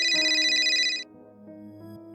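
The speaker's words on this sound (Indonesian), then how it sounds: "Tiba-tiba telepon Pak Rudi berdering" A mobile phone rings alone with a bright electronic ringtone: a steady high melodic tone for about a second, then lower sustained notes that carry on to the end.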